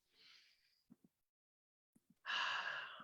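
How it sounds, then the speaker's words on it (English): A person takes a slow, deep breath in through the nose and then breathes out through the mouth with an audible airy rush. A couple of faint soft taps come in between the breaths, all close and quiet. "Inhaling in through the nose, exhaling through the mouth."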